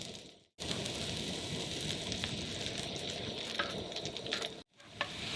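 Garlic sizzles in a butter cream sauce in a pan at a desert campsite, a loud, steady frying hiss with faint stirring clicks, starting abruptly and cutting out briefly near the end.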